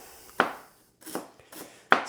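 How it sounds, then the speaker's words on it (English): A knife chops ingredients on a board while preparing cold-smoked salmon, three distinct, sharp chops spaced irregularly and heard close up and clear, with no speech. "We chop everything."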